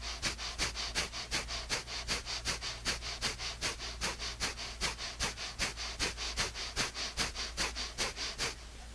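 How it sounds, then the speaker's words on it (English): Breath of fire yoga breathing during a sound and energy healing session, rapid rhythmic sharp nasal exhales about two per second, steady and close for several seconds without talking. "And begin a breath of fire."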